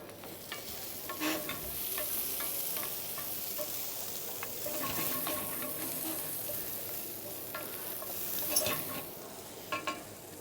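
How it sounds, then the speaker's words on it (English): Peppers and beans frying in a pan for vegan paella are stirred steadily, giving a continuous sizzle broken by scraping strokes and occasional louder clicks. "make sure you keep on stirring it because the peppers are very thin"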